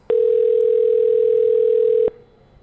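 A single long ringback tone sounds on a recorded phone call, steady and loud for about two seconds, then cuts off to a quiet open line.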